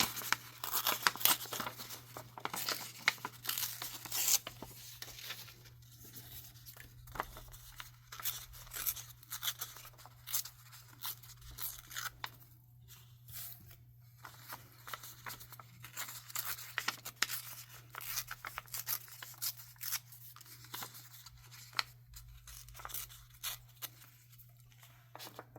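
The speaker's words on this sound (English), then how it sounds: "I'm going to take and just tear this to the size that I want it" Old book page torn by hand to size for a junk journal tag, close-up repeated rough tearing and crinkling paper sounds continuing steadily over a faint background hum.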